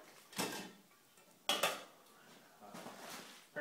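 Disposable plastic fork and spoon from a bug out bag handled up close, a few light rattling clicks and rustles spaced apart with quiet gaps between.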